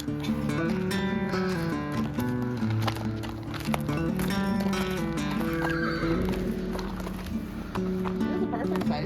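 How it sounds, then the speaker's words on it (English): Pony rides with a pony neighing over busy hoof clip-clops, partly masked by continuous loud music with a steady tonal melody; voices blend into the dense mix. "Pony rides."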